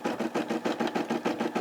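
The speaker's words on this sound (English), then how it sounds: "I like the SE600, because it's a sewing and it's an embroidering machine" A Brother SE600 sewing and embroidery machine stitches a LYFT logo, its needle running in a fast, steady mechanical rhythm of regular pulses, close and fairly loud with no voices.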